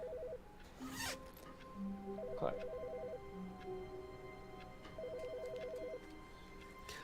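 An in-game telephone ringing in The Stanley Parable, a repeated bright electronic trill sounding in short bursts at the start, middle and near the end, over a steady background hum, with a brief spoken word.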